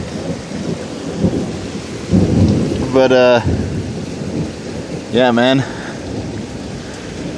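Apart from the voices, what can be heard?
thunderstorm with rain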